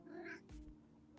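A cuddly pet cat gives one short, quiet meow close by, followed by faint soft rustling.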